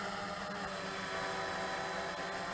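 An RC136WGS brushless GPS quadcopter lifts off carrying a one-kilogram load, its motors producing a loud, steady, close-up buzzing whine that holds without a break.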